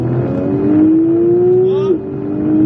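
A Porsche 911 922 GT3 RS race car on the Magny-Cours club circuit, its engine droning loudly as the pitch climbs steadily under acceleration, with a brief drop at a gear change and a faint voice in the background.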